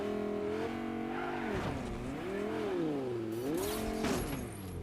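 A car's engine in Fortnite hums and swings up and down in pitch as the vehicle accelerates and eases off, with tire noise and a brief scrape near the end, no one speaking.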